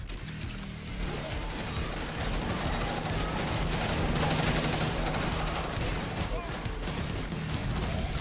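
Pistol gunfire from a video game, a dense run of sharp shots over steady game noise with music underneath, with speech also present.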